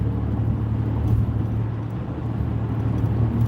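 Road traffic heard from inside a moving car on a driving lesson, a steady loud rumble of engines and tyres with cars speeding past, no distinct pass-bys standing out.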